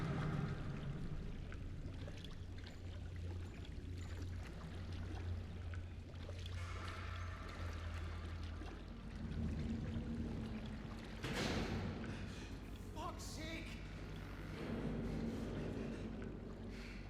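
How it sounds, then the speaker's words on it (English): Sloshing, pouring water sounds as a character wades forward through a long hallway flooded with oily water in the game Still Wakes The Deep, a steady trickling churn with occasional louder splashes. "We'll be walking through some water"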